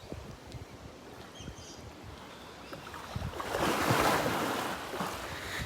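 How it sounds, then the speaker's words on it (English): A heavy, powerful animal throws its body around in water, sending up a broad splashing surge that swells midway over a steady wash of water and wind, with no voices. "You can see how much of a splash he makes when he throws his body around"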